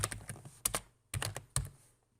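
Computer keyboard keys typed in a few quick bursts, close and clear, with short pauses between clusters of clicky strokes.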